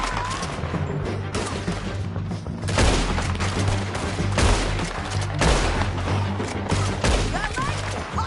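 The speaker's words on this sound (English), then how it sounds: "Let's just start shooting." Dense, continuous gunfire during a shootout in Red Dead Redemption 2: overlapping rifle and pistol shots crack and boom close by without a break, with voices shouting over the battle.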